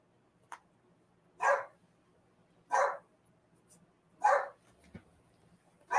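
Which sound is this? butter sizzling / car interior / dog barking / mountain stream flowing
dog barking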